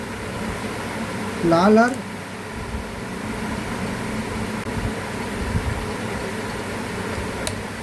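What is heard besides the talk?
ceiling fan running during connection test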